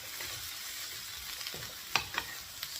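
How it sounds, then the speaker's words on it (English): Cauliflower and vegetables fry in a pan while being stirred, with a soft continuous sizzle and a few sharp scraping clicks from the spoon toward the end, heard quietly and without speech. "Stirring it."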